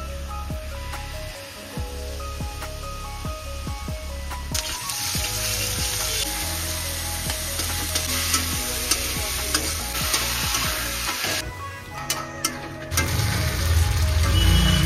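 Marinated chicken sizzles and fries in a hot pan, a constant crackling hiss with occasional stirring scrapes and clinks, close up and fairly loud.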